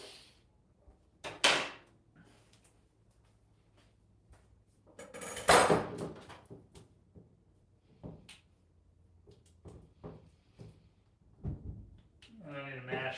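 A kitchen drawer is rummaged through for a spatula, with loud clattering bursts of metal utensils and wood knocks between quieter pauses, ending in a rapid rattling.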